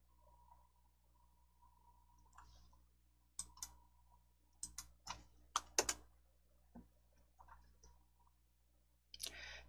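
Computer mouse clicking in quiet surroundings, a run of sharp separate clicks, some in quick pairs, close and crisp over a faint background hum, with no talk.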